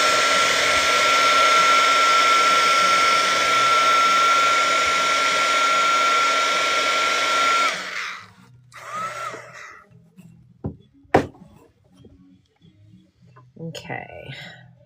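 A hair dryer blows steadily and loudly to dry a watercolor painting, a continuous whir that cuts off sharply partway through, leaving quiet room sounds, brief clatter and a few soft noises.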